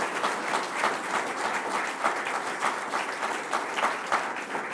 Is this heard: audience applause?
yes